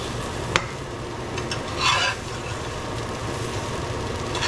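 Okra sizzling steadily in a hot pan, a constant dense frying hiss with a brief louder stir and scrape as the pieces are flipped.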